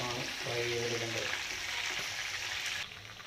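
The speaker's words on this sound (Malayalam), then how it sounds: "ഗ്രേവി എടുക്കാതെ ചിക്കൻ കഷ്ണങ്ങൾ മാത്രം ആണ് ഫ്രൈ ചെയ്തെടുക്കേണ്ടത്" Chicken pieces fry in a pan with a steady, close sizzle and crackle, while someone talks over it.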